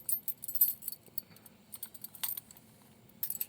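Keys jangling on a keyring with a small TPMS wrench attached, close and fairly quiet, in light irregular rattling bursts with brighter clinks near the start, middle and end.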